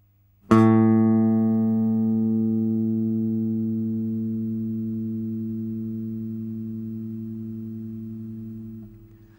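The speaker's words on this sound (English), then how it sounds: "Finally, play the 2nd string with your pinky at the 7th fret." A single bass guitar note, plucked on the 2nd string at the 7th fret, sounds clearly and sustains alone for several seconds before it is muted.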